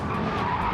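Suzuki Escudo tyres skidding and squealing around a corner in Gran Turismo 7, a steady broadband scrub with engine noise underneath, loud and continuous throughout the short moment.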